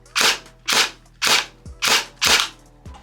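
Five evenly spaced, sharp snapping shots from a Novritsch SSE18 airsoft electric pistol fitted with a suppressor, each a crisp crack with a short tail over a low steady hum, fired near the microphone.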